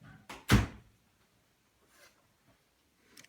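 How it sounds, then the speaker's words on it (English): A door in a busy home craft room swings shut with one firm thud, close and brief, followed by a few faint knocks and rustles in a quiet room. "Just going to close that door"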